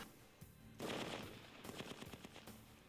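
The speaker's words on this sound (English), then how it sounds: "The combat rifle test." Rifle fire crackles in quick rapid bursts during a combat rifle test by an Air Mobility Command Security Forces team, distant and faint under a steady background rumble.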